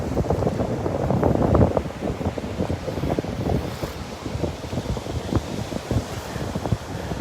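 Wind gusts buffet the microphone on a beach at Delnor-Wiggins, with surf rumbling steadily underneath; the blustery noise runs throughout, strongest near the start, with no talking.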